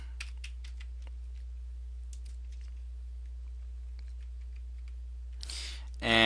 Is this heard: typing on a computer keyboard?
yes